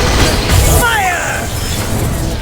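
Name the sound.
fire spell blast in a wizard video game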